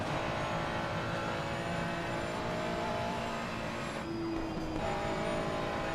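Onboard a Ferrari race car in a racing video game, a loud, steady engine drone holds at high revs, dipping briefly during a shift before climbing again.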